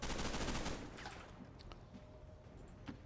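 Suppressing gunfire in the video game XCOM Long War of the Chosen: a loud burst of rapid automatic shots that cuts off abruptly, followed by a quieter stretch of scattered clicks and soft mechanical ticks.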